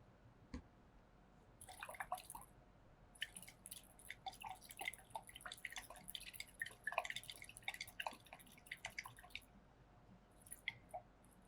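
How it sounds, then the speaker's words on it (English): Water dripping and trickling into a test tube of green nickel nitrate solid in a chemistry practical, a series of small irregular drips and splashes, close and fairly quiet, with no talking. "We'll dissolve this solid by adding a little bit of water."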